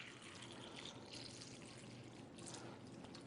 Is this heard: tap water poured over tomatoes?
yes